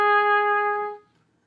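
An oboe sounds one sustained reedy note using the right hand A flat fingering, steady and bright for about a second before fading out, alone with no voices.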